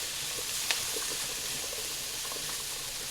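Carrots and other vegetables fry in a pan with a steady, dense sizzle, close and even throughout, broken by a few soft pops and one brief stir.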